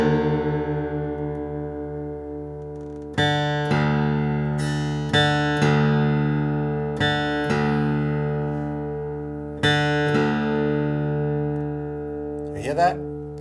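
Guitar strings ring out in repeated plucks, about five strums over several seconds, the low E string's pitch gliding as it is tuned down, ending with a quick scraping slide.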